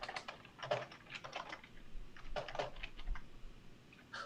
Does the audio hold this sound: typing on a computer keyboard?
yes